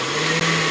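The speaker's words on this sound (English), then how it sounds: "let this start moving around in the blender before we turn it on high" A blender whirs through tomato soup, a loud, close, steady motor drone with a brief dip mid-way, like a short pulse of the blades.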